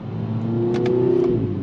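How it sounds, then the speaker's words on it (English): A 2023 Kia Forte GT with a dual clutch transmission accelerating hard, its engine revving smoothly and rising in pitch before one quick shift, heard up close for a brief moment. "this dual clutch transmission in this car is it shifts quick, it downshifts quick, upshifts quick"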